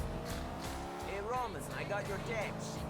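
Tires squeal and skid as a car slides across the road in Grand Theft Auto IV on PS3, wavering screeches rising and falling over a steady engine drone.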